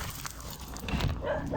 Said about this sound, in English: The dogs just get crazy